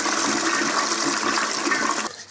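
A loud, close toilet flush rushes steadily for about two seconds, then cuts off abruptly into quiet as the bowl empties, with no voices.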